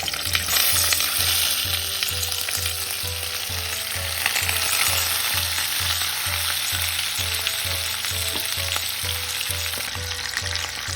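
Chicken leg pieces fry in oil inside a pressure cooker, giving a loud, continuous sizzle with a steady rhythmic scrape of stirring repeating close by, and nobody speaking.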